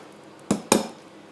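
Two sharp, close knocks sound a fraction of a second apart as an egg is cracked against the rim of a bowl for a pear clafoutis, then only quiet room tone remains.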